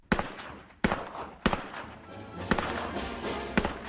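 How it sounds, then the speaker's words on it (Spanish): Federal artillery booming over an encampment with shrapnel bursting overhead, heard as a series of loud, sharp blasts at irregular intervals, each followed by a rumbling, crackling tail, with no voices. "la artillería federal tronó y sobre el campamento estallaron los espráneles"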